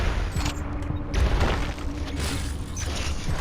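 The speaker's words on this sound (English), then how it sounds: "Oh boy, bomb bugs." Bomb bugs in Metroid: Samus Returns set off a burst of rapid popping blasts and mechanical clatter over game background sound, loud and close for a few seconds.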